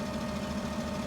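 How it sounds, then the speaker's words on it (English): Fendt 900 series tractor engine in Farming Simulator 17, a steady mid-pitched idle drone with a constant low hum, no variation, heard alone. "The sound is the same for all of the engines."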